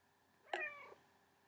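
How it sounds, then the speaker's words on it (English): A pet cat lets out a single short meow close by, next to a computer, in an otherwise quiet room. "My pussycat is rubbing itself on the computer."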